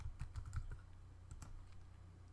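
Computer keyboard typing a short layer name in Photoshop. A quick, close burst of clicky keystrokes is followed by a few scattered taps, with no talking.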